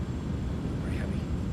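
A Kodiak aircraft engine in a flight simulator drones steadily as a low, continuous hum, with no break across the short stretch.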